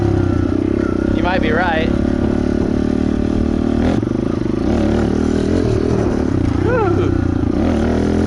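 A pit bike engine revs in short bursts beneath steady talk, loud and close, with a rising whine that swells near the start and again toward the end.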